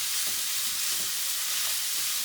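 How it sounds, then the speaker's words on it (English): Mince and zucchini sizzle steadily in hot oil in a pan, a continuous bright frying hiss with soft scraping pulses as the mixture is stirred and broken up, close and fairly loud. "you stir it around and break up the bits of mince"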